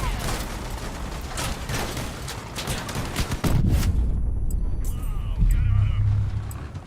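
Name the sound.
machine gun fire in the video game Crossout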